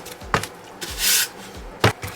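Hand sanding of filler on a homemade Chewbacca bowcaster prop, heard as a few short, separate rasping strokes with quiet pauses between them, close to the listener, with no talking.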